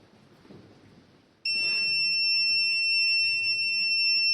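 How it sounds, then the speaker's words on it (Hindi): A smart dustbin with an IR sensor lets out a loud, steady electronic beep tone that starts suddenly and holds on, following a short stretch of faint background noise. "आईआर सेंस करेगा, बीप करेगा"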